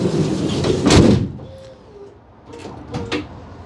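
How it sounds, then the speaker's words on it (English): Door of a 2025 Mercedes eSprinter or Ford eTransit electric van closing with soft-close assist: a muffled thud as the door meets the frame, then quieter latching clicks and whirring as it pulls itself shut. "You noticed that the soft close just help the doors close, so you don't have to slam them."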